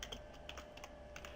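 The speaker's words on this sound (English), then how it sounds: "I'll go ahead here and start typing." Fingers type steadily on a computer keyboard, a rapid run of light irregular clicks and taps heard close up with no talking.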